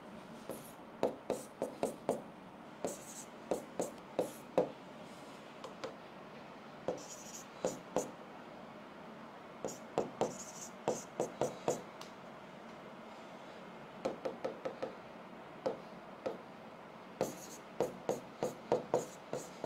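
Marker or chalk strokes on a board during a maths lesson: quick tapping, scratching bursts clustered in groups with pauses between, fairly faint and close, a quiet room tone beneath.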